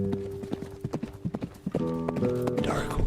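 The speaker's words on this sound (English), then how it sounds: "do we want to talk about that horse coming over the ridge?" Horse hooves clip-clop in a fast gallop, then a horse neighs loudly, a played sound effect with a tonal whinny over steady hoofbeats, all close and clear.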